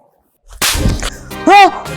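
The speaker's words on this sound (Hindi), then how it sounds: "अम्मा मुझे थप्पड़ क्यों मारा" A sharp, loud slap to the face cracks once, followed by a startled vocal cry and a short wail close by, after a moment of near silence.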